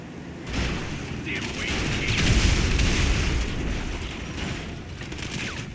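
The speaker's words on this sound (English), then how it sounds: "Bombs going off around him." Bombs go off in a GTA 5 Online salvage yard robbery, giving a loud, sustained rumbling roar of blasts and debris that swells in the middle and eases off, heard close with no clear speech over it.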